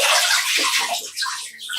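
Clean water splashes and pours close up as a foot is rinsed during a foot soak, a brief burst of bright sloshing and trickling.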